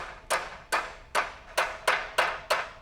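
Hammer blows on hot metal held in a vise, about eight sharp, evenly spaced ringing strikes roughly every 0.4 seconds, each decaying briefly before the next, close and fairly loud with no talk.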